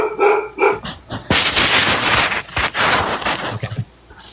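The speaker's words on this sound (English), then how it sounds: "Why don't you tend to your dog instead of having him bark?" A dog barks several times in loud, close bursts, with short gaps and an uneven rhythm.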